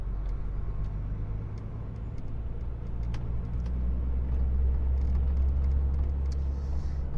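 A car drives along a road between Knowsley and Chorley, a steady low rumble of engine and tyres with faint ticks and knocks over the top, fairly quiet and constant.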